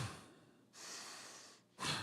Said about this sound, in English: It's just where you take a big bellows breath.